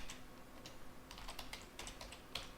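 Fast keystrokes on a computer keyboard, including taps of the tab key, clatter in an irregular rhythm of light clicks at close range over a faint steady hum, with no voices.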